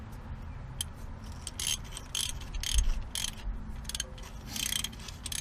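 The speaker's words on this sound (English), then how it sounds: "here's my tap, and I'm going to put on a ratchet for now" A hand ratchet drives a thread tap into a bolt hole while a front end loader is fitted to a John Deere 5525 tractor, giving bursts of quick, crisp metallic clicks in uneven spurts over a low background hum.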